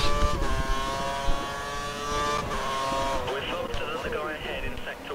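Formula 1 race car engine in F1 2013, revving hard with rising and falling pitch through gear shifts while cornering, loud and close, with a voice talking over it.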